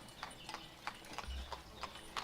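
Horse hooves clip-clopping steadily as a horse pulls a freight wagon driven by a wagoner through an 18th-century town in the OSTRIV city-building game, with evenly spaced hoof strikes over a quiet ambient background.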